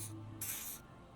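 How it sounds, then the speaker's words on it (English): A short hissing burst from a spray canister in the game Disco Elysium, a brief initial puff followed by a louder, longer spray, over a low hum. "He douses you with an odd-smelling spray"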